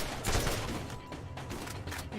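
Rapid gunfire from a fast-reloading weapon in the video game Borderlands, a dense stream of sharp shots firing in quick succession at steady loudness, with no talking.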